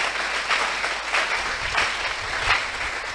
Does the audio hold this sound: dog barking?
no